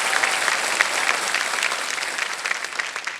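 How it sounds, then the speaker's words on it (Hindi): Steady applause from the studio audience of the game show Kaun Banega Crorepati, a dense wash of clapping that holds at an even level for a few seconds with no talking. "एक बार फिर तालियों के साथ हम इनका अभिनंदन करते हैं"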